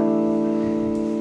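Harmonic on a guitar string detuned to a very low drop tuning, lightly touched at the 12th fret, sounds as a steady, sustained chiming tone with rich overtones and no attack, holding evenly throughout.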